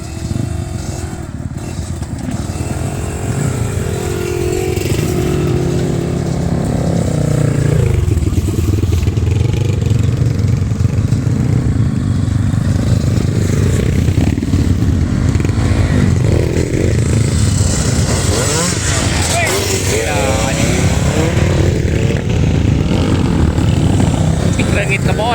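A Kawasaki KX85 dirt bike roars steadily while ridden through a garden, the engine loud and close with rising revs and a constant buzzing drone; voices talk over it.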